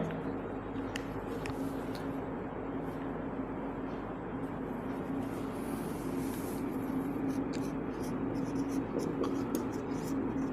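Pen writing by hand on paper during a Hindi agriculture lesson on protein, a steady faint scratching that runs throughout under low room noise.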